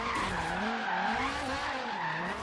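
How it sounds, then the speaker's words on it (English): A Dodge Viper engine swapped into a Chevrolet Bel Air drift build in Forza Horizon 3 roars loud and close, pitch rising and falling under sustained tire squeal as the car slides. "I'm gonna go out on a limb and say that is a Dodge Viper engine, ladies and gentlemen, and not a Ferrari engine"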